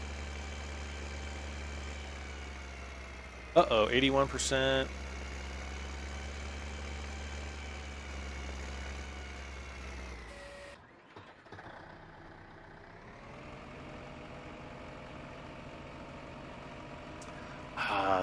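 Tractor engine idling in the Farming Simulator 15 video game, a steady low droning hum running throughout, briefly interrupted by a short burst of clatter and a dip near the middle.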